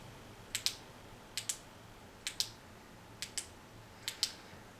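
Jetbeam SF R28 flashlight switch clicked five times, each press a crisp, close double click, in a steady rhythm over a quiet background.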